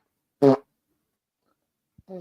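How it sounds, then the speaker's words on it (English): A single short, low buzzing fart sounds close up and fairly loud, followed by a pause and then a brief bit of muffled voice. "X-Man just farted."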